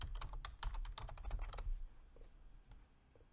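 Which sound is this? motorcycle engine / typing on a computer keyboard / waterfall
typing on a computer keyboard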